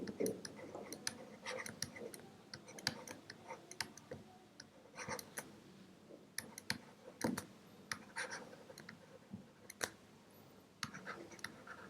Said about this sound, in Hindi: देखिए मैं एक बार एग्जांपल का क्वेश्चन लिख देता हूँ।